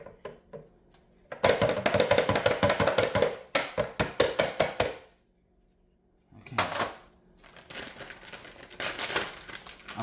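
Cookies are crushed for cookies and cream chocolate bars, making dense bursts of close crunching and crinkling in quick rhythmic runs that break off for a short quiet gap and then resume.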